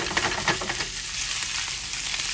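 Leftover thinly sliced corned beef sizzling as it reheats in a hot pan, a steady close frying hiss with brief crackles and stirring scrapes, no talk over it.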